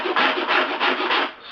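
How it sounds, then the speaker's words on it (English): A rasp file scrapes rhythmically across a tumbler surface to roughen it, close and fairly loud, about five quick rough strokes in a row with no voice. "scrape across the surface and that tears it to pieces basically, making it much better to glue on"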